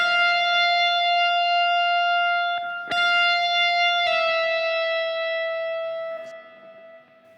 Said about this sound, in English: the way she did it was just to play the E at the 12th fret again